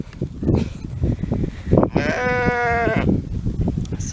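Rosie the lamb lets out one clear, wavering bleat lasting about a second, close and loud, amid rustling and handling noises.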